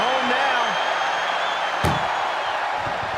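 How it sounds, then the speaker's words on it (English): A metal ambulance door slams shut once partway through a WWE ambulance match, cutting sharply through a steady roaring arena crowd that fills the whole stretch. "Doing their best just to shut that first door."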